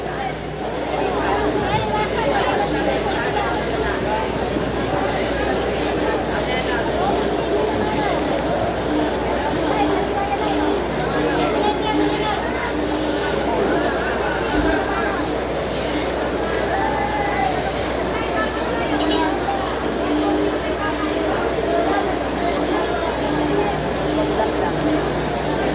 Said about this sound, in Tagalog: Grabe na itong ulan.